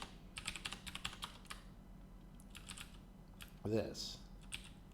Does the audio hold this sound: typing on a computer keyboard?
yes